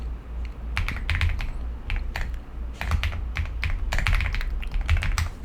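Fast, uneven typing on a computer keyboard nearby, with bursts of crisp key clicks over a low background hum while dummy text is entered into a form.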